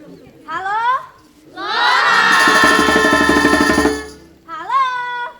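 A crowd of junior high school students at an Indonesian quiz competition in Palembang roars in a long, loud burst of cheering and shouting for their school team, with shorter yells before and after.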